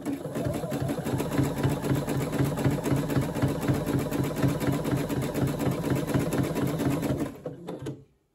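A sewing machine stitches the base of a coiled rope basket in a continuous loud, rapid mechanical whir that stops abruptly near the end.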